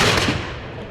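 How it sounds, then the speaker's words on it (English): A single loud cannon blast from a Revolutionary War battle at Trenton in 1776, with a sharp broad boom that rolls into a fading rumble over about a second. "bringing out 2 cannons and firing on the advancing Continental Army"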